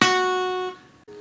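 One sustained note at the 3rd fret on the high E string of a guitar, from a song lesson. It rings loud and close, fades, and stops with a brief gap before a softer tone follows, with no speech.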